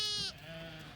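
A white Dorper cross ewe with a bobtail gives a single short, clear bleat nearby, which trails off quickly into quiet.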